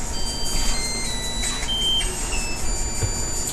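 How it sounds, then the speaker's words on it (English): A loud kitchen timer goes off while a chicken, spinach and mushroom casserole cooks, giving high, thin electronic beep tones over a steady background hum. "And a very loud timer."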